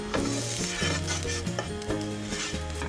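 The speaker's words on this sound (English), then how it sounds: "I'm going to cook the flour for about 1 minute" Flour sizzling and being stirred in a hot pan as the base of a ham and broccoli macaroni cheese sauce, a steady crackling hiss with light scraping, under background music.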